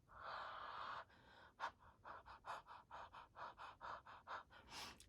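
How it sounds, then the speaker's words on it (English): Someone breathes onto a rubber stamp to re-wet its ink, one long huff followed by a rapid string of short, rhythmic breaths, close and fairly quiet. "So I'm just going to breathe on this now."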